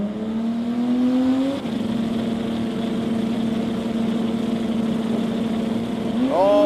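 A Mazda RX-7 drag car at a sports compact drag racing meet holds a steady, loud droning engine note that drops briefly, then climbs sharply in pitch near the end as it revs and launches, heard close.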